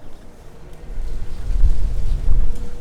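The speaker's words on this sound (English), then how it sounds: "every once in a while a big gust of wind will come up" A gust of outdoor wind buffets the microphone, building from a soft rumble into a louder low roar that swells and holds through the second half.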